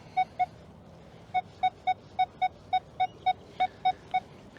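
A Nokta Legend metal detector sounds a nickel tone: a run of about twelve short, clear beeps at a steady pitch, evenly spaced with a brief pause after the first two, close and alone.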